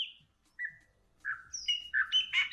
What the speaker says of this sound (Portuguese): é um belo O pássaro. pássaro preto